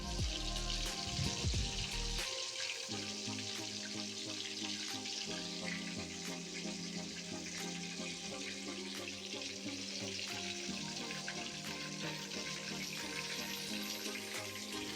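KFC-style breaded chicken frying in oil on low heat, a steady dense sizzle and crackle throughout, close and fairly loud, with no talk.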